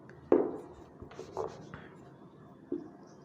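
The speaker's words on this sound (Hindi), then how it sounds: "यहां पर मैं लिख देता हूं पहले" Chalk or a marker knocks and scrapes across a classroom board in a few separate strokes, with sharp taps and short rubbing sounds spaced apart in a quiet room.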